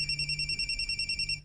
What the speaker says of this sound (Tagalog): May nanawag sa phone ni Ayesa